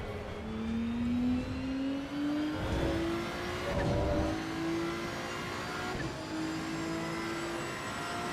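A Ferrari race car engine in Assetto Corsa EVO climbing steadily through the revs, loud and close, with a rising whine and a few brief gear-change dips, no talking.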